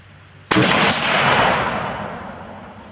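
A single loud rifle shot from an SSG 69 firing a 155 grain custom competition round, a sharp crack at close range followed by a long rolling echo that fades over two seconds outdoors.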